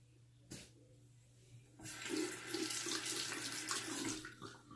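Tap water runs from a faucet to wet a Gillette Tech safety razor: a faint click, then a steady, fairly close hiss of flowing water that fades near the end.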